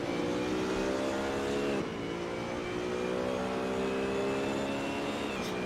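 GT3 race cars at Kyalami, including a BMW, roar steadily at high revs in Assetto Corsa, with the engine pitch dropping sharply during a gear shift. The sound is loud and unbroken, with no voices over it.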